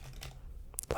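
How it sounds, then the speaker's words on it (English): Playing cards gathered from a pile and shuffled together in a quiet, close setting, with soft rustles and flicks that end in a louder burst of riffling. "I will shuffle them, making a bit of a mess"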